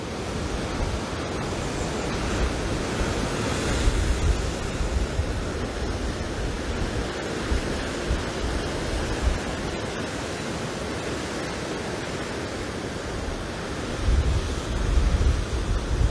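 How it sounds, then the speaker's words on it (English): Steady wind and surf roar at the coast of Martins Bay, Barbados, around sunrise, a broad continuous wash with slight swells in strength, no voices. "I'll give you all a few moments of the wind in the background"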